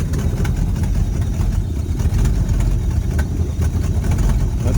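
An abandoned 1970 Ford Mustang V8, revived after decades, runs with a loud, steady low rumble, a close, continuous idle with a rough pulsing throb and no talk over it.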